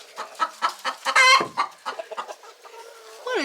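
A hen clucking close by in a run, a string of quick rhythmic clucks that swell into one louder drawn-out squawk before going on in short bursts.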